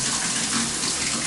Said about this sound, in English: We're going to go all the way to hot, and you can see the water pressure is quite good